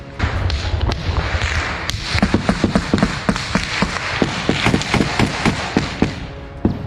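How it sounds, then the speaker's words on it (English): Sustained gunfire traded in a dense, heavily wooded forest, a steady run of sharp cracks and thuds at an even rapid pace, loud and busy with no voices. "Shots exchanged in the chaos of a dense, heavily wooded forest"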